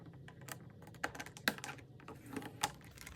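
Vellum paper is cut in soft, quiet, irregular snips and clicks, a few sharper ones standing out against a faint background.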